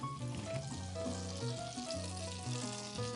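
Butter and oil sizzle in a hot frying pan before foal steaks are cooked: a steady, crackling fry heard close up under stepped background music.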